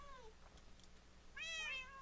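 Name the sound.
cats meowing in Minecraft video game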